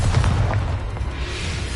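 An Expulso spell blast in Hogwarts Legacy erupts as a heavy, booming explosion with a deep rumbling low end that fades into a sustained roar.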